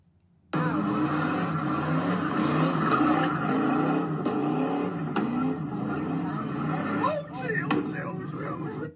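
Cars at a street takeover, a loud sustained roar of engines and tire squeal from a crowded scene, with voices mixed into the din.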